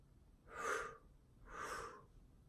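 Two slow, deep breaths drawn in and let out through the nose and mouth during a meditation breathing exercise. Each breath swells for about half a second in a soft, airy rush, close to the mic, with no talk.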